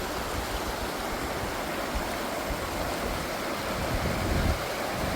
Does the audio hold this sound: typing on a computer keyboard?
no